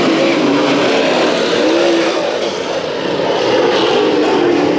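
Race cars roar together on the Bakersfield Speedway oval as the field restarts during the Budweiser Nationals heats, a loud, continuous engine drone holding steady throughout with no break.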